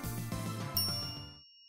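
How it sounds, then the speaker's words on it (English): A bright elevator arrival chime from the visual novel game Steins;Gate rings once, ringing clearly over a soft background music bed before fading out. "A chime signals our arrival on the 5th floor"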